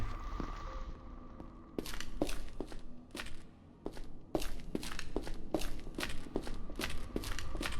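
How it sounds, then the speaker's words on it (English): Footsteps in the video game Project Silverfish, a steady series of distinct, fairly close thudding steps under a faint background hum, with no talk. "I hear footsteps."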